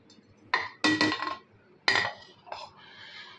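Dishes and steel utensils clink and clatter while rice and a fish curry with potato and okra are served onto a plate, several sharp close clanks in quick bursts with brief pauses between.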